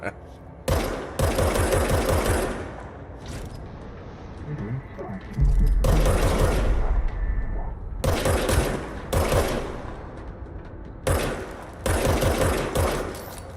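Rapid automatic gunfire from a gun in the video game Control, several loud sustained bursts with pauses between them and a heavy low thump midway, a voice talking faintly at times.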